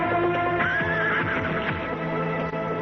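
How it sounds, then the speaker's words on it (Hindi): A horse named Badal neighs loudly and close at hand, a sustained whinny with shaky rising harmonics, while faint hoof clip-clops mix in beneath it. "ये तो बद्रीनाथ जी का घोड़ा है।"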